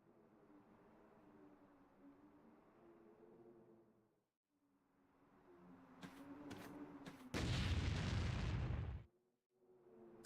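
Deep rumbling booms and a few sharp bursts in a video game build up, ending in one loud, roaring explosion that cuts off abruptly, with no talking.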